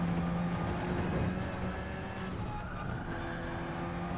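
A race car engine drones steadily in Gran Turismo 7 during a hot lap, a continuous moderately loud hum with a slight dip in pitch partway through, no voices.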